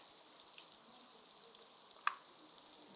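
Cooking oil heats in a pan ahead of frying chicken liver, giving a faint, steady, even sizzling hiss with one brief sharp tick partway through.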